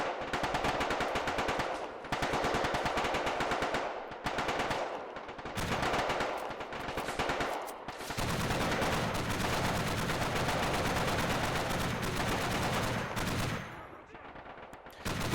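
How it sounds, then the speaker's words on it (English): Sustained heavy machine gun fire rattles through a 1999 Battle of Kosare war game in Yugoslav trench positions, loud and dense bursts with brief gaps, mixed with other gunfire and distant battle noise. "We're gonna put one guy on the heavy machine gun."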